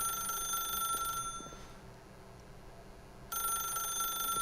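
A phone rings in the video game The Stanley Parable, a continuous high electronic ringing that cuts out for about two seconds and then resumes, at moderate volume, with no talking.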